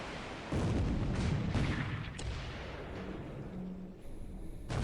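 Heavy naval gunfire from a warship's main battery booms in a naval video game, several deep blasts and rumbling reports, with a faint tone and ambient battle noise between them.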